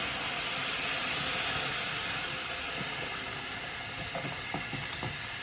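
Milk is slowly poured into hot semolina kheer on the stove, giving a steady broad hiss and sizzle with faint stirring clicks and scrapes near the end.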